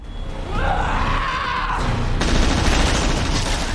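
Gunfire in a zombie action film, Army of the Dead, dense overlapping shots forming a loud, sustained burst of fusillade that swells and continues without pause, with no talk over it.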